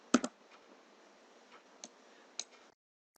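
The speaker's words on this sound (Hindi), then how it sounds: "आपने अपने कीबोर्ड से F4 प्रेस करना है" A single keyboard key pressed on a computer, the F4 key, gives a couple of sharp close clicks at the start, followed by a few fainter, scattered ticks in a quiet room.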